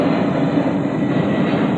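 A steady, broadband roar of airplane noise fills the whole stretch at constant loudness, with no talk over it.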